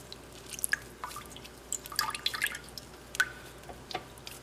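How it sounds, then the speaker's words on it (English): Buttermilk dripping from homemade butter as it is wrung through cheesecloth: scattered small drips and light wet squishes, soft and close, with no talking. "wringing it out through the cheesecloth"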